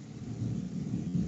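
Heavy rain pours outside with a deep, rolling rumble of thunder, a dense continuous roar that swells slightly through the short stretch, with no voices.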